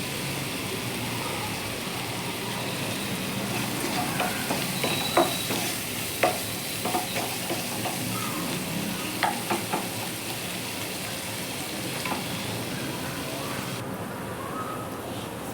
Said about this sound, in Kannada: ನೋಡಿ ಇವಾಗ ನಾನು ಟೊಮೆಟೊ ಹಾಕ್ಕೊಂಡು ಇದು ಟೊಮೆಟೊ ಹಸಿ ವಾಸನೆ ಹೋಗೋವರೆಗೂ ನಾನು ಫ್ರೈ ಮಾಡ್ಕೊತೀನಿ.